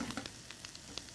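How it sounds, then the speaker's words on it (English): Shrimp sear in a very hot pan with a steady, dense sizzle, close and continuous, broken by small crackles and pops and with no voices over it. "you get a nice sear on the shrimp"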